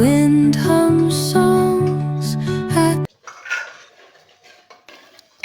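Dishes and steel utensils washed by hand in a home kitchen clink and scrape softly and irregularly, following a few seconds of loud music.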